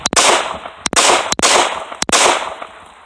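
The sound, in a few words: gunshots from a handgun held limp-wristed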